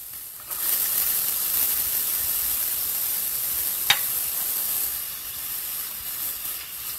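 Chopped onion frying in a little olive oil over medium heat gives a steady, close hiss and sizzle from start to finish, with one brief sharper crackle partway through.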